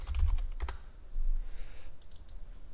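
Quick, close clacking of keys on a computer keyboard in two short bursts with a pause between them, no speech.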